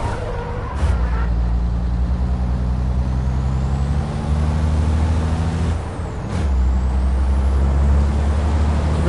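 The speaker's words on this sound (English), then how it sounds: "so they brake exactly where the red is" Heavy racing trucks in the FIA European Truck Championship thunder past up close and brake hard, loud sustained engine roar with sharp air-brake hisses cutting in around the one- and six-second marks.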